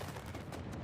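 Cannons blowing up in an anime battle scene, a dense, continuous roar of blasts and gunfire-like booms rumbling throughout at a fairly low, steady level.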